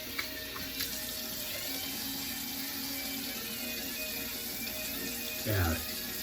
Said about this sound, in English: Wet the face.